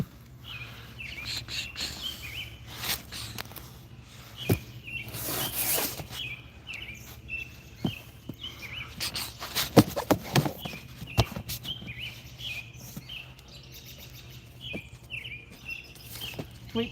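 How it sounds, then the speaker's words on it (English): Birds chirp repeatedly outdoors at dusk as darkness falls, a steady chain of short tweets near and far, with insects buzzing faintly and scattered rustles and knocks underneath. "Birds are still going though."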